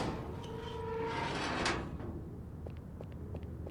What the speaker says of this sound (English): Alright, let's pull the door.